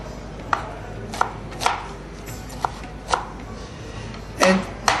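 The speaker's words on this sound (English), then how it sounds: "just dice up the vegetables a bit finely and then add them to the wok" Knife dicing julienned vegetables finely on a cutting board for egg fried rice, a series of sharp, close chops spaced unevenly, with a brief cluster of quicker cuts near the end.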